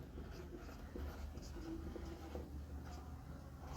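Chalk or marker scratching across a board during a chemistry lecture: short scrapes and taps in a steady stream, fairly close. No talking.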